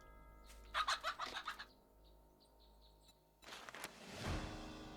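Chickens in the survival game 7 Days to Die give a quick burst of clucks and gobbling calls, followed by a pause and then a louder rustling, thumping stretch, all with no voices.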